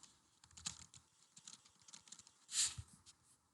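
Typing on a computer keyboard produces soft, close clicks in an irregular stream, closing with one sharper, louder keystroke in a quiet room with no talk.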